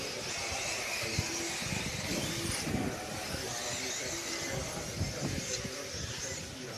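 A small electric RC buggy climbs a hill on a racing track during a European championship final, its motor whine and tyre noise steady and moderately near, blended with a continuous crowd and commentary bed.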